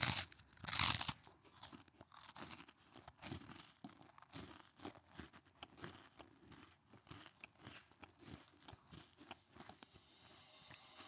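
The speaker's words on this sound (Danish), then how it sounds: "Så har vi altså Malak, der tager en bid her" Food is bitten with a loud crunch, followed by steady close-up chewing and crinkly crunching sounds, closely miked in an ASMR challenge.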